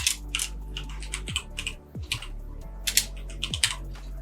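Quick, irregular clatter of keys on a computer keyboard as an email address is typed, close and clear, with short pauses between bursts and no talk.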